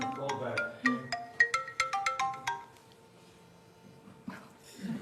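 A cell phone ringtone goes off in a lecture audience, a loud bright melodic run of repeated electronic tones for a few seconds, then stopping, followed by faint murmurs.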